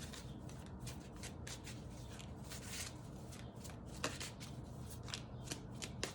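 Tarot cards shuffled by hand in a steady run of crisp riffling bursts, close and fairly quiet, with a few sharper taps near the end and no talking.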